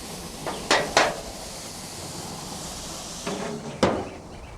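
Shish kebab on a grill being flipped: a few sharp metallic clacks and scrapes in two clusters over a soft, steady sizzle, close by with no talking.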